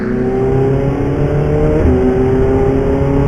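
Ferrari and Porsche race cars accelerate together at a race restart on the Val de Vienne circuit, a loud, steady, close engine roar whose pitch shifts briefly midway, with no voices.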